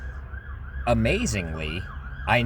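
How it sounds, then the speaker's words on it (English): Siren of a passing ambulance or police car, a steady tone running the whole way with rising and falling wails swelling toward the end, while someone talks over it. "let me let this ambulance or cop go by"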